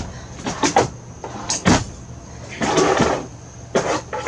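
Small, shallow drawers in a Rockwood High Wall 276 pop-up camper sliding open and shut, giving several short wooden rattles and knocks in bursts with pauses between them, fairly close.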